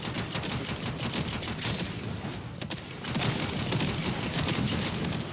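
Rapid automatic gunfire from a weapon in the shooter video game The First Descendant, dense bursts of shots that pause briefly midway, then resume louder and keep going.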